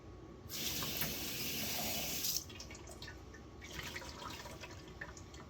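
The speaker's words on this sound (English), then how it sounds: "So we're going to pour this out" Water and grit pour out of a rock tumbler barrel in a hissing, splashing gush for about two seconds, followed by quieter trickles and drips.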